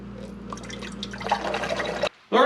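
Fluid drips and trickles from a drained GM 3400 engine block, a close, steady patter that grows busier before cutting off abruptly.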